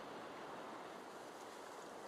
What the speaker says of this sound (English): I do like the waves